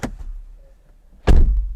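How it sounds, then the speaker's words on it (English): A BMW 2 Series Gran Coupe car door shuts with a heavy, solid thunk, preceded by a faint click of the handle, loud and close with no talking. "one thing I really love though is the sound of the door"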